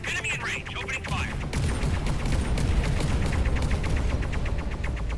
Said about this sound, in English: Enemy in range. Opening fire.